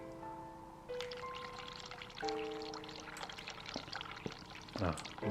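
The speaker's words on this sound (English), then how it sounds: "Sink hot water." Hot water runs into a sink in The Cat Lady, a soft pouring and trickling stream under tonal game music, followed by a short splashing burst near the end.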